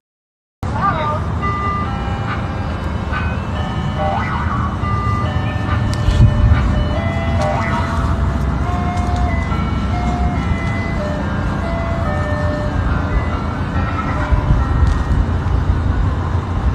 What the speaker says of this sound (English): the parents keep on posting videos of this ice cream truck and a few others in the area, driving around to late hours